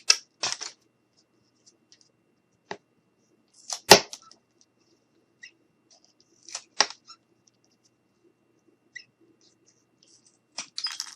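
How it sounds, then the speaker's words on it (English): Scissors cutting material for a handmade fairy cottage craft, sparse sharp snips and clicks in quiet surroundings, with several close together near the start and a few scattered later. "so I'm just going to cut."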